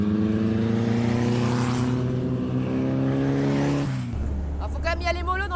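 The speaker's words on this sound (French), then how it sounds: "Alors j'ai quand même la chance de rouler dans une beach buggy de 1957. Une originale Meyers Manx." A 1957 Meyers Manx beach buggy drives on ice, its engine droning steadily and close, with the pitch sliding down as it eases off near the end before a voice breaks in.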